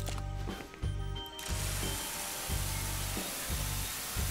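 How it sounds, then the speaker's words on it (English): A power washer in a video game blasting a large stain on a tiled floor: a steady hissing spray with a rhythmic mechanical pulse repeating about once a second, continuous and fairly loud. "let's see how well the power washer works in a scenario like this"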